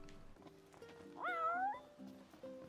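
A cat meows in the video game Final Fantasy XV, one clear, drawn-out, rising-and-falling meow heard close over soft background music.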